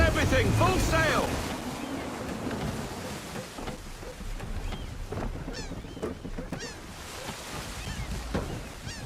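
A sailing ship runs under full sail at sea in Assassin's Creed III, with rushing waves and wind, sea spray hissing, and creaks and thuds of the rigging throughout.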